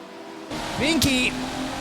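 Race cars on the final lap of a VIR twin sprints race, with an engine note rising and falling as one car passes close, under a commentator's voice.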